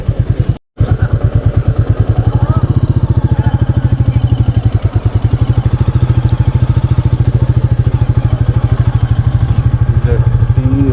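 A Royal Enfield Meteor 350 single-cylinder motorcycle cruising at an easy speed, its engine thumping in a steady, even rhythm loud and close throughout, with a brief dropout near the start and wind rumble.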